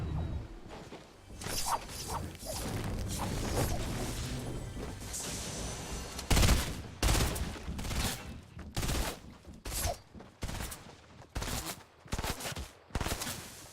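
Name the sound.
burst-fire rifle gunfire in a video game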